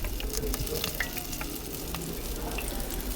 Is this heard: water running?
no